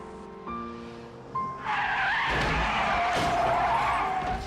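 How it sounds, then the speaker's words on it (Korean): A car skids in a multi-car traffic pile-up in a film scene, with a long loud tire squeal and engine roar that builds and holds for several seconds. "끔찍한 연쇄 교통사고를 당해 그 자리에서"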